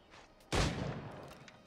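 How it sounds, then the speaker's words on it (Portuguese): A single sharp video game gunshot from Assassin's Creed IV: Black Flag cracks out of faint background noise, followed by a brief, fading echo. "tá atirando lá de onde?"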